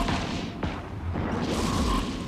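Torpedo launchers on a Raven Striker ship in the space game EVE Echoes fire in a series of heavy, booming launches that blend into a dense, continuous rumble.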